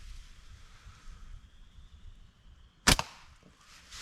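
Slingshot firing a 53 grain steel ball, a single sharp snap of the band release standing out loud against a quiet outdoor background, followed by a faint trailing clatter.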